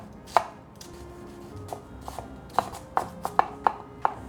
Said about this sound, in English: I'm gonna chop it relatively small because I don't really like celery